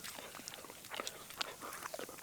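A dog chews a treat at a forest campsite: faint, scattered crunches and bites, soft and close, with no talking.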